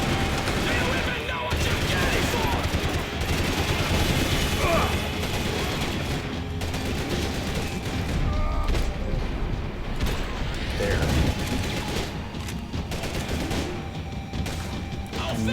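Gunfire in the video game Max Payne 3, dense bursts of shots and mechanical clatter running continuously, loud and busy throughout with no talk.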